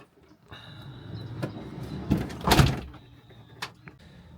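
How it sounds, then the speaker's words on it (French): The sliding door of a camper van rolls open with a rumbling slide and a solid clunk as it reaches the end, followed by a smaller click, close up with no one talking. "Maintenant, la porte se rouvre bien."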